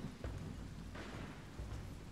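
A thunderstorm in the video game Wartales: a faint, continuous low rumble of thunder with a soft rain-like hiss, swelling slightly in places.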